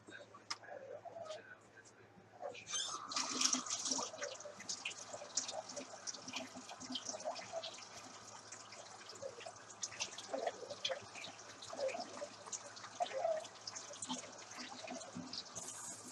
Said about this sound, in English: I'm going to fill this with 1 1/3 cup of the hottest water that comes out of my sink.